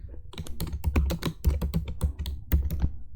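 Rapid, close keystrokes on a computer keyboard, with Shift and Space pressed during an Excel tutorial; a busy run of crisp taps and clacks with no talking.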